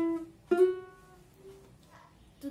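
A single ukulele note is plucked, then the pitch glides up as the finger slides to another fret, ringing softly before fading.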